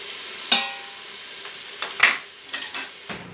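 Beef searing on the high saute setting of an Instant Pot, giving soft intermittent sizzles and scraping stirs in a few separate bursts, close and moderately loud with no talking.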